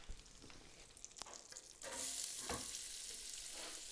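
Onions fry in a big slab of butter in a pan, a faint crackling sizzle with occasional stirring scrapes that swells into a louder, steady hiss partway through.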